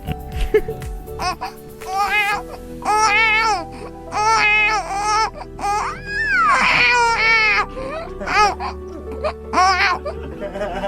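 A voice imitates a baby's wailing cries, rising and falling in repeated bursts, close and loud over a low steady background hum.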